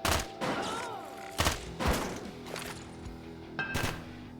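Gunfire and a grenade explosion in the video game Quasimorph, with sharp bursts of shots and booming impacts at irregular intervals, loud and close, each followed by a short decaying tail.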